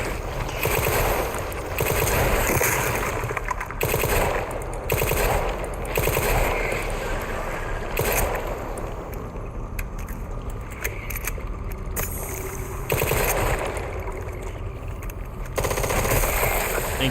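Sustained rapid machine-gun fire in a video game, loud and dense, going on almost without a break with a few brief pauses.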